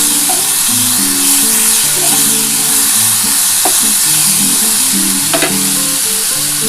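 Tomatoes frying with okra (bhindi) in a pan for a vegetarian dish without onion or garlic, a loud steady sizzle with stirring scrapes throughout and soft music underneath.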